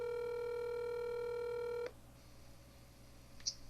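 A telephone call is being placed. A steady, buzzing line tone holds for about two seconds and then cuts off abruptly, leaving a quiet open line with a faint hum and one small click.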